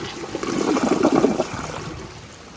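An American Standard Champion 4 Max toilet, a 2015 model, flushes with a rush of water that swells over about a second, then drains away into a fading trickle.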